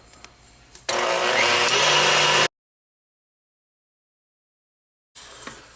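An electric mixer whips eggs and sugar for a steamed egg cake, a loud steady whirring drone that starts after a soft lead-in, cuts to silence, then returns briefly at the end.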